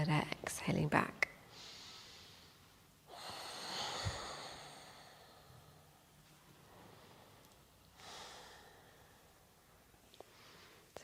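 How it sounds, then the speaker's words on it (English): Slow, audible breaths drawn in and let out during a yoga deer pose, soft and close, with a long breathy inhale followed by a quieter exhale. "So inhale forward, exhaling back."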